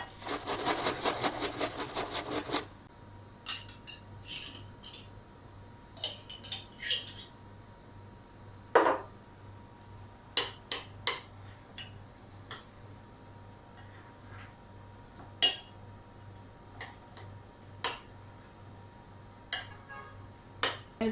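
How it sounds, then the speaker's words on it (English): Carrots and cabbage scraped over a hand grater, a burst of dense rasping at the start followed by scattered short scrapes and clicks spread across the clip, with no talking. "So now we're going to grate your carrots. Now we're going to grate our cabbage."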